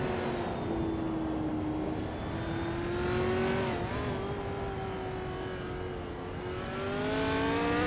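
Racing-game engines drone steadily as the race starts, several cars' whining motors rising and shifting pitch together in a continuous, moderately loud roar.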